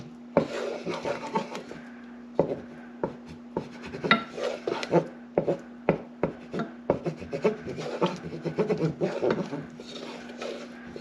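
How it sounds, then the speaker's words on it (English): A spoon scrapes across the ridged bottom of a pan while mac n cheese cooks, giving close, repeated rasping strokes in an uneven rhythm over a steady low hum. "I wonder if you guys can probably hear the bottom of the spoon on the bottom of the pan"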